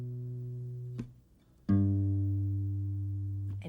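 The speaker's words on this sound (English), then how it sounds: "Then you're going to just hit your A string open." An acoustic guitar plays a brief note, then the open A string is struck and rings out, sustaining and slowly fading, with no talking.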